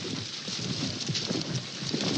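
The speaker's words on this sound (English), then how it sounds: "that's a strong gust" In a storm scene from an audio drama, a strong gust of wind roars as a dense, loud rush of noise that holds steady throughout without easing.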